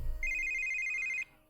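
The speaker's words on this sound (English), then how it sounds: "And then my cell phone starts to ring." A cell phone rings in a visual novel game, a steady electronic ringtone pattern repeating for about a second before cutting off, clear and alone with no talking.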